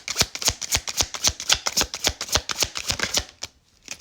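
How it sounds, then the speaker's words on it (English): Tarot cards are shuffled and dropped in quick, regular bursts of crisp riffling and slapping, close and fairly loud, continuing for several seconds before a short pause and one final flick. "The cards are all falling face down."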